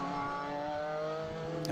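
BMW Solution F race car at a ModSports circuit race, engine snarling in a continuous high-revving note as it sweeps past at moderate distance, faint against the track ambience.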